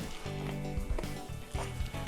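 Half a cup of diced onions dumped into a hot pan, crackling and sizzling in short, uneven bursts of frying that rise and fall close up.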